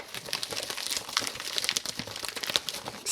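Parcel packaging crinkled and crumpled by hand while unboxing tech products, irregular crackling bursts and rustles close up, with no voices.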